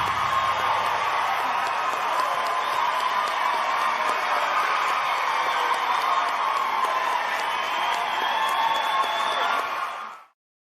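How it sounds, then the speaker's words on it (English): A large crowd screams and cheers without letup at the announcement of the 2013 Ultimate Elvis Tribute Artist winner, a dense, loud roar holding steady for about ten seconds before cutting off abruptly. "They're all screaming"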